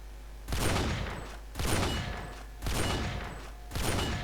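Four heavy sniper shots ring out in GTA San Andreas Multiplayer, evenly spaced about a second apart, each a loud sharp crack trailing into a long decaying echo, no voices.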